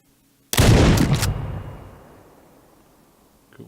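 Single loud sniper rifle shot in the video game GameGuru, bursting out of near silence with a heavy boom and a long rolling echo that slowly fades, no talking.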